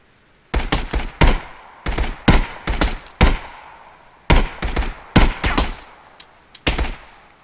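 Gunfire in Contractors Showdown ExfilZone, loud close bursts of several punchy shots each, separated by brief gaps, repeating in clusters across the span.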